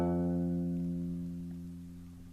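A single guitar note rings from the first fret of the sixth string, a clean sustained tone that slowly fades over a couple of seconds, played alone.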